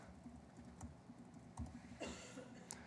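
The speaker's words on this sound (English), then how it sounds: "I'm not going to make any typing mistakes in front of a bunch of people" Keystrokes on a computer keyboard during a live coding demo at a conference session, a few soft scattered clicks with one brief burst of rapid taps near the end over quiet room hiss.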